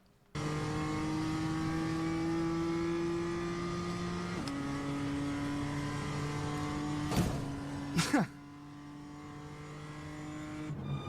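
A race car engine in a sim racing video game drones at steady high revs, its pitch shifting down partway through, with a couple of sharp crash or impact bursts near the end.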